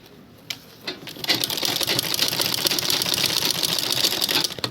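A normal manual home sewing machine stitches a large zippered handbag. A couple of clicks come first, then a steady, close, rapid mechanical chatter of stitching runs to the end.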